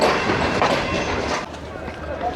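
A train sits at Faisalabad railway station on a Shalimar Express trip, heard as a loud, steady rumble of rolling stock and station bustle that eases slightly partway through.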